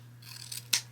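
Scissors snip once through wreath mesh at an angle for a paint stick swag, a short crisp cut near the end after faint rustling, over a steady low hum.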